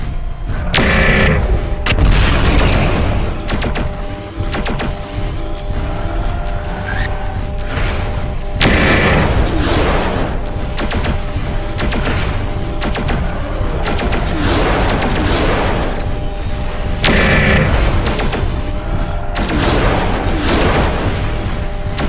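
Mech weapons fire in the Mechwarrior 4 video game, heavy booming shots and explosions repeating loudly over a constant rumbling mechanical drone.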